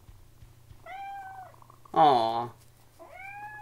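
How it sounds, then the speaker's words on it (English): Cat meowing in the survival video game Undawn, three clear meows with the middle one loudest and most strained, over a low steady hum, with a soft spoken reaction. "That cute cat literally makes up for the shitty gameplay."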